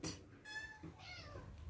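Cats crowd close and meow in a run of several insistent, rising cries, one after another, with low room noise underneath.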